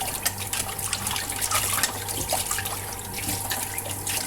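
Tap water runs steadily into a sink during washing up while coconut milk dries nearby, a continuous splashing trickle at close range with no talking.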